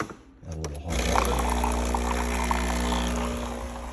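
Hot water is poured for a double-shot Americano, a continuous close rushing pour that starts after a short quiet lead-in and holds steady to the end.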